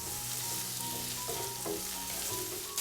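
Ivy gourd (kovakka) sautéing with salt in a pan over a medium flame, giving a dense, steady, close frying sizzle with a few faint stirring knocks.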